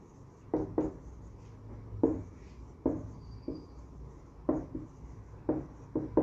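A pen scratches out a maths answer on paper in short, quiet strokes and taps with brief pauses between them, close and alone.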